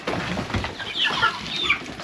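Chickens cluck and chatter around a small backyard chicken house at a home in Kenya, with several birds calling close by in overlapping bursts and a brief flutter of wings, with no talking.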